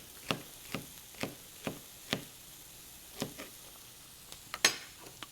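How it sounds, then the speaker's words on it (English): A knife slicing celery on the diagonal against a cutting board, about a dozen sharp, separate taps at an uneven pace, close and fairly quiet with no talking. "I've got a little bit of celery, and cut them on a diagonal"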